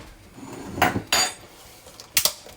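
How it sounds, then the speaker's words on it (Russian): Soup spoon lifted from a kitchen counter, giving a few light, close metallic clinks and taps against dishes, brief and fairly quiet. "Теперь он возьмет ложку для супа"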